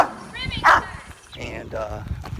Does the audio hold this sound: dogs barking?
yes